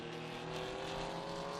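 Historic endurance race cars at the Estoril circuit, among them a Daytona Cobra, give a steady, loud engine drone with harmonic hum throughout, a continuous roar with no talk.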